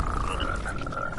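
Poisoned frogs croak loudly and steadily in the video game Mortal Shell, a dense, continuous chorus of close croaking with no pauses.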